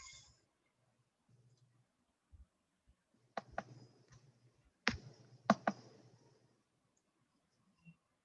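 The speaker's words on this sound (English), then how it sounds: "Now click your mouse." Computer mouse clicking in a quiet room: a few sharp, isolated clicks spaced over several seconds, close and crisp, with faint soft handling noises between them and no talk.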